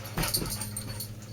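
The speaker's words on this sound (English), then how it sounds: "Sorry, my dog's going crazy" A pet dog giving a short, faint burst of excited whimpering yips indoors, brief and somewhat distant.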